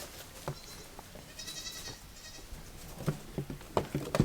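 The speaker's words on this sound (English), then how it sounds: "Curious little goats." Young goat kids bleat in short, fairly faint calls outdoors amid rustling and low background noise, with a brief cluster of cries mid-way.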